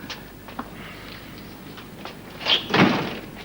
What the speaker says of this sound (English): do shut the door.